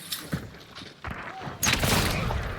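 Gunfire bursts out in Hunt: Showdown, with a few sharp shots early and then a louder, sustained blast of fire and reverberating noise toward the end. A faint voice talks in the background.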